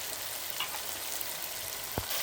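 Chicken sizzles and fries in a pan with ginger garlic paste for a gravy curry, a steady crackling hiss with a couple of sharper pops.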